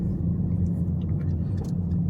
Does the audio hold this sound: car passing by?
yes